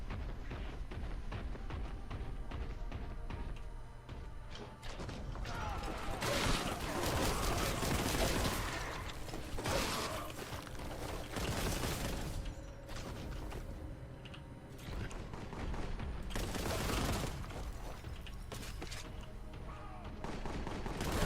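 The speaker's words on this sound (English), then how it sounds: "Plasma gun." Rapid bursts of plasma gun fire from a video game, loud crackling volleys repeating every few seconds over a busy background of mechanical noise.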